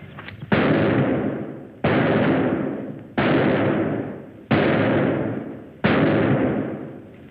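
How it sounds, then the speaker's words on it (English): Five loud gunshots ring out at steady intervals during target practice in a 1946 film, each a sharp crack that decays slowly with a long reverberant tail, with no talking. "Good shooting, huh, Jimmy?"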